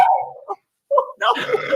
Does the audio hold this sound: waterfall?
no